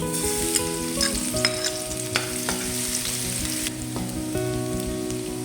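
Garlic frying in cooking oil makes a continuous close sizzle, broken by faint light crackles and pops, with steady loudness and no one speaking.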